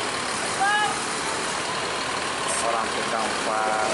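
A Bintang Utara Putra bus idles as it enters the company's pool parking in Medan, a steady low engine rumble with a few faint high whistling tones, accompanied by a person talking.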